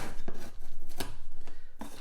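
A sharp knife slices through a cardboard box in a few distinct strokes, each a crisp scraping cut, close and fairly loud against a low steady background hum.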